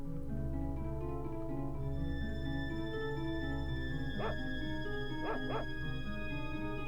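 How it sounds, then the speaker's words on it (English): The sacred dog in the Secret of Evermore video game gives a few short yips and barks over a steady, droning game music track, with one bark followed by a quick pair a second later. "You're the sacred dog."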